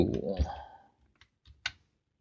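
A voice trails off, then a few isolated, crisp key presses sound on a computer keyboard while a Keyence KV-16AT PLC is programmed, spaced irregularly over quiet.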